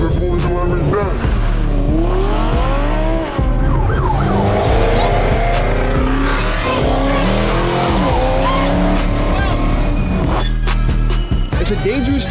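Car speeding and weaving recklessly on a highway, a loud sustained engine roar that rises and falls with tire squeal and a siren-like whine, while people talk excitedly over it.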